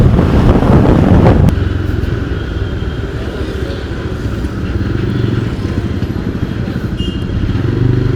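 A motorcycle riding along a road near a beach, a steady, close engine drone mixed with heavy wind rush, with a louder burst at the start before settling into a constant cruise.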